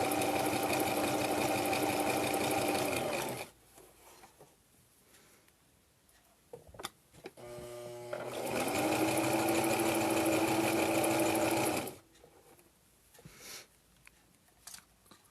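A sewing machine stitches a fabric scarf face mask in two steady whirring runs of about three seconds each, separated by quiet pauses with small clicks and fabric handling.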